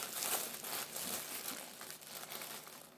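Plastic sachet crinkling and crackling as it is torn open by hand, a close, continuous rustle with sharp bursts throughout.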